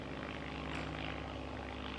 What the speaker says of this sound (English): I bet back in the day they didn't have planes flying overhead with banners.